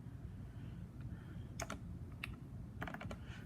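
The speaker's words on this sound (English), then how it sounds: "let's take this and type it into the calculator here" Faint, light clicks of keys being tapped on a calculator in a few brief clusters over a steady low background hum.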